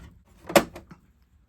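A small plastic door on a G.I. Joe toy APC vehicle snaps shut with one short, close click. A couple of fainter clicks follow in a quiet room.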